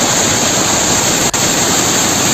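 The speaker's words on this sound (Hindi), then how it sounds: "पानी की रफ्तार इतनी तेज है कि ट्रक आगे पीछे भी नहीं हो पा रहा है।" Raging floodwater rushes through the Kanda nala stream in Sirmaur, Himachal, where a truck is stuck in the current, making a loud, steady, unbroken roar close by with no voices.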